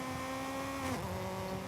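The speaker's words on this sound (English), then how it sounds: "we drove the car around our track and here is everyone's time" A car in Forza Horizon 5 drives around a track, its engine droning steadily and then dropping sharply in pitch partway through as if easing off or shifting, continuous and close.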